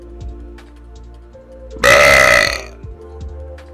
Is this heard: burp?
yes